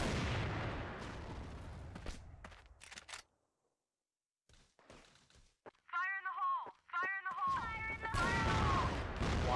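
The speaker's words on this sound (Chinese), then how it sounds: "这各种手雷，因为看到你压了，我这边就是各种道具往这个黄箱可以丢了呀" Grenade explosions during a CrossFire esports match on the Compound map, heavy blasts and thuds in the opening seconds, a brief silence, then more bursts under excited commentary.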